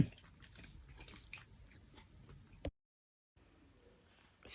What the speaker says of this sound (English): that mouthful like took forever to chew and swallow